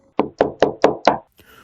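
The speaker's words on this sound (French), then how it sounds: "La cognait à la porte." Five firm knocks on a door at an even, quick pace, loud and close, followed by a brief faint rustle.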